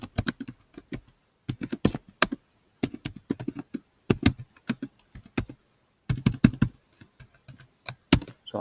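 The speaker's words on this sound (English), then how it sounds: "And I can type in an email" Someone types an email on a computer keyboard in quick bursts of close, crisp key clicks separated by short pauses, with no voices.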